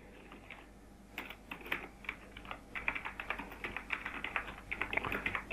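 Rapid typing on a computer keyboard, sparse at first and then a steady run of close, crisp keystrokes with no voices over it.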